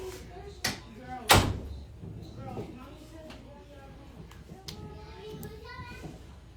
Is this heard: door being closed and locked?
yes